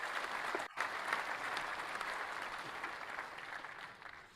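A conference audience applauds steadily, a dense, even wash of many hands clapping that holds for several seconds, with no speech over it.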